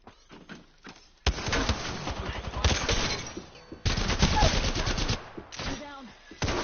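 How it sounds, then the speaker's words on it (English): Rapid automatic gunfire from the Apex Legends video game, loud and dense in sustained bursts with short gaps, overlapping with talk from players. "And then somebody's firing."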